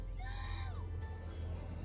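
Little boy next door yelling at his sister to come down, a short high wavering shout heard at a distance over a loud low rumbling background.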